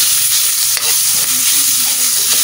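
Garlic fried rice (sinangag) being stir-fried in a pan with a little oil, a steady close sizzle with scraping stirs running throughout, no voices.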